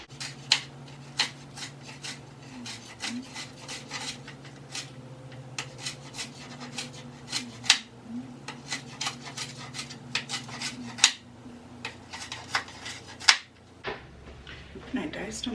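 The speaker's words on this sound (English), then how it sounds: "I want to chop them up a little tiny bit finer. And so that I can put them in my meatballs." A knife chopping already-diced onions and other vegetables finer on a cutting board for meatballs, a steady series of close, sharp taps under an ongoing low hum, ending in a brief clatter.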